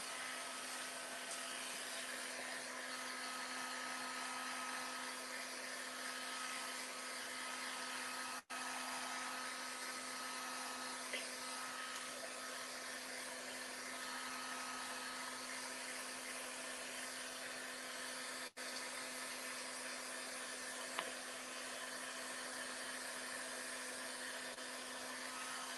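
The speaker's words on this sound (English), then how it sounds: "let me just get this heat tool. Now, my heat tool is super old." An old crafting heat tool blows hot air in a steady, continuous whoosh with a constant tone, broken by two brief dropouts where it cuts out momentarily.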